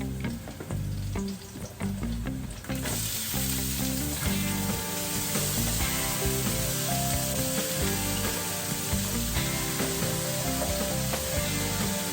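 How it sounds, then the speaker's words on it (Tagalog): Onion and garlic sizzle and crackle steadily in hot oil for vegetable lumpia, with faint stirring scrapes and no talking. "Sarap ng tunog ng piniprito ng mga aromatics, aromatic spice, sibuyas and bawang."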